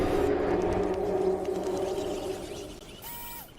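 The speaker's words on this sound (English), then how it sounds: "That's the sound of the mighty T-Rex." Deep, drawn-out T-Rex roar from PUBG Mobile, a rumbling growl that fades over several seconds, ending with a faint high swooping tone.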